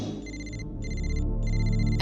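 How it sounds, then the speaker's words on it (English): A phone ringing in repeated electronic bursts, three trilling pulses separated by short gaps over a low rumbling background. "And my phone rang"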